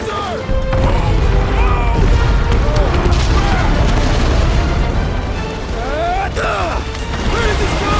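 Set bombs blowing up in the video game Guardians of the Galaxy: loud, sustained booming blasts and crashing debris roar continuously, with tonal game sounds and voices layered over the din.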